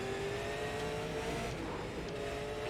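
Super late model stock cars in the iRacing video game, a loud, continuous pack of engines droning at a steady pitch as the field races under green, with no talking over it.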